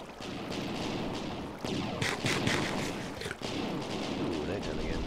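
Video game gunfire in a crowded, noisy mix, with sharp bursts around the middle over a continuous rumbling mechanical din of millstones, without clear speech.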